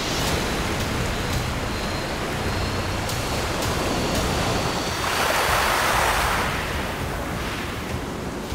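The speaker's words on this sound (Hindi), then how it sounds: "और बाजू में देखिए समुद्र है" Sea waves wash steadily against the rocky Konkan coast, a continuous broad roar with wind buffeting the microphone and a stronger surge of surf building midway before easing off.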